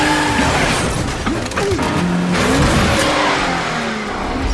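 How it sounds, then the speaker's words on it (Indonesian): A car driving off a rooftop in a film scene roars with revving engine and a brief tire squeal, loud and close throughout, with no talk. "He drove off the roof."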